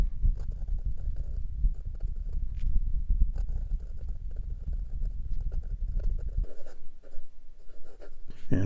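A 1945 Parker Vacumatic fountain pen nib scratching steadily across paper, close and continuous, with a low rumbling background that drops away near the end.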